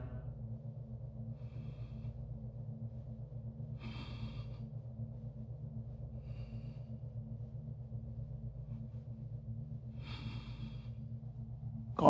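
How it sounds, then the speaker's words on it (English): Deep, slow conscious breathing during a yoga pose, with several soft breaths spaced a few seconds apart, faint and close over a steady low hum. "Breathe in and out."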